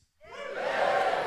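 A live audience bursts into cheering and applause, swelling quickly from silence into a loud, sustained crowd roar.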